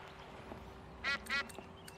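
Ducks in the Escape from Monkey Island game give two quick nasal quacks in succession, fairly faint over a low background hum.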